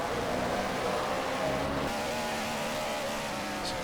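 A blue and orange-red BMW M3 GT race car in Project Cars roars around Circuit de Catalunya, a steady, fairly faint engine drone heard from a distance.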